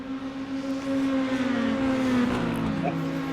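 Race car engines in a racing video game on the Lime Rock circuit, heard as a sustained engine whine that shifts pitch as the cars race, with commentators talking over it.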